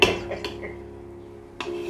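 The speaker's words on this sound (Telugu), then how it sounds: "ఈ నెయ్యిలోనే రవ్వ అంతా ఉడికేదాకా ఒక 2 నిమిషాలు కలుపుకుంటూ ఉండాలి, అడుగు పట్టకుండా" Semolina being stirred in ghee in a pan, heard as a faint scraping and a few sharp metallic knocks of a spoon against the pan. A soft sizzle hums underneath throughout, with no talk.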